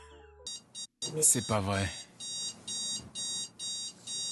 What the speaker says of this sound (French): J'ai débranché le réveil et il a trouvé le moyen de se redéclencher à nouveau.